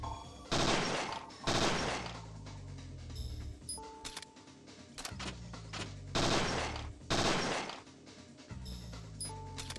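Repeated bursts of gunfire in the video game Parasite Eve II, several loud volleys with ringing decays and small mechanical clicks between them, no talking.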